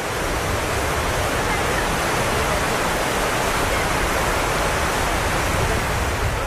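Flowing water where the Alakananda and Bhagirathi rivers meet at Devprayag, a dense, unbroken rushing hiss like a waterfall, loud and steady for the whole stretch with no voices.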